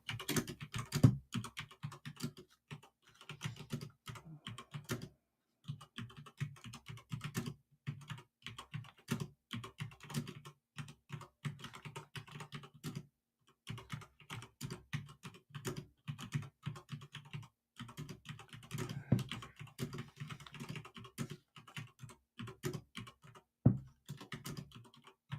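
Steady typing on a computer keyboard goes on for about 25 seconds, close and crisp, with short pauses between bursts of keystrokes and no talking.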